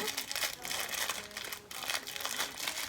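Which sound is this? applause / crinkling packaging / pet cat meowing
crinkling packaging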